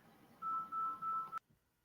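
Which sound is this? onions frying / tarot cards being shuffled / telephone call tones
telephone call tones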